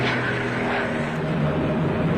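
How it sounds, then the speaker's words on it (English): Typhoon ground support planes pass overhead at daybreak near Arnhem in 1945, a steady loud whooshing engine roar that holds level throughout without a break. "I heard loud whooshing coming over our heads."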